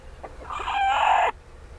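A hen in a tropical homestead chicken coop gives a loud, drawn-out agitated squawk lasting under a second, preceded by a few softer clucks, close by with no talk.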